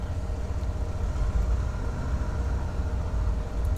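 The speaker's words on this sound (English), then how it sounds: "let's get this right engine started up." Starting the right piston engine of a Beechcraft Baron 58 in a flight simulator adds to an already running engine, giving a steady, low, throbbing rumble that stays even throughout, moderately quiet with no talk.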